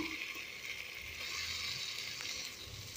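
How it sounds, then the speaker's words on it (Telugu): Onions, tomato, drumstick pieces and eggs frying in a pan for curry, a steady close sizzle and crackle with faint stirring, no voices. "చక్కగా ఉల్లిపాయలు వేగి, టమాటా వేగి, అలాగే ములక్కాడ కూడా వేగింది"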